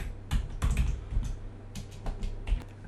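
Typing into a WordPress plugin search box on a computer keyboard, a close run of soft irregular key taps in small bursts with brief pauses, no talking.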